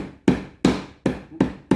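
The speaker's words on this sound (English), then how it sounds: "You can use the mallet to hammer it out" A mallet pounds abalone on a flat board: five sharp, evenly spaced thuds, close and loud, each fading quickly.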